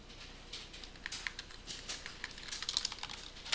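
Keys tapped on a computer keyboard, including a Ctrl+Space shortcut, as a quiet run of light, quick clicks in irregular rhythm with no voices.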